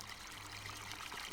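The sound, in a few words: water flowing in video game Farming Simulator 17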